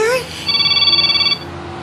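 A cellphone rings with a short, steady electronic tone that lasts about a second, right after a brief voice is heard. The ringtone is clear and close in a quiet room.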